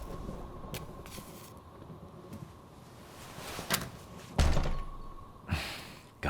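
A heavy door in the horror game White Night slams and thuds a few times, loud dull impacts rising over a low dark ambient drone, with a sharper knock near the end.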